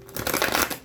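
A deck of tarot cards being shuffled by hand: a brief, close burst of riffling, fluttering card slaps lasting under a second, fairly loud and alone.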